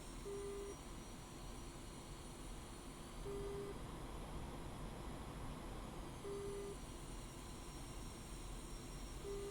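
A Su-25A jet taxiing quickly toward the runway in the DCS World flight simulator, its engines giving a steady, loud droning whine with a faint repeating tone, unbroken and without talk.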